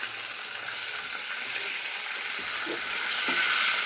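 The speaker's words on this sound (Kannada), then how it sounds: "ಇದನ್ನು ಚೆನ್ನಾಗಿ ನಾವು ಫ್ರೈ ಮಾಡ್ಕೊಳ್ಳೋಣ" Fish pieces coated in chiroti rava and cornflour fry in a pan with a steady, close sizzle and hiss that grows slightly louder throughout, with no voices.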